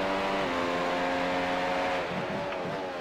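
A race car engine in the iRacing video game at Imola howls at a steady high pitch, then its tone dips and wavers as the revs drop, loud and continuous with no speech.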